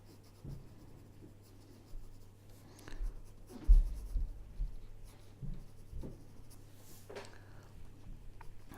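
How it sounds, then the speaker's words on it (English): A pencil scratches and scribbles across paper in short, uneven strokes, close and quiet, with occasional firmer marks and brief pauses between them. "So again, I'm drawing what I'm seeing."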